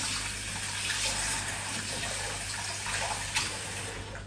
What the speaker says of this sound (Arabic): اول شي نغسل هذا النعناع